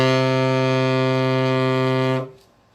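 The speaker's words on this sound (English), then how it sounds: "So if I was to play this low foghorn sounding D" A low D sustained steadily on a wind instrument for about two seconds, a rich buzzy foghorn-like tone with strong overtones, loud and close, then cut off into a brief fading room tail.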